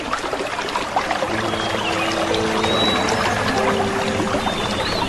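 A gentle stream flows steadily in a continuous, close, full-bodied wash of trickling water, with no voices over it.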